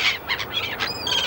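Seagulls calling on a busy outdoor film set in Wales, a run of several harsh, squawking cries close by in quick succession, with no talk over them.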